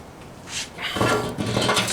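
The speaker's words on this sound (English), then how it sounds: "Take one of these rods out so I can get the grate in." A metal rod is pulled from a Pit Barrel Cooker to make room for the grate, giving a short scrape followed by a run of metallic clanks and rattles, close and fairly loud.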